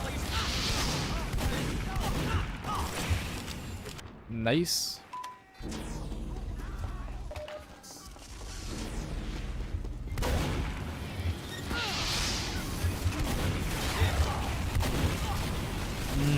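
Gunfire and explosive blasts in a Team Fortress 2 match, bursts of shots and booms recurring through the clip, mixed with a player's excited voice over the game noise.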